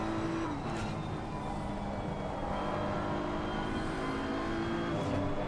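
A racing car engine drones at Spa in a sim racing game, a loud continuous roar with shifting pitch as the car accelerates and changes gear, close and steady throughout.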